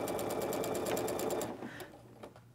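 A sewing machine runs steadily, stitching quilt pieces together with quarter-inch seams, its fast rhythmic whir continuous and close for about a second and a half before slowing and stopping, leaving quieter handling noise.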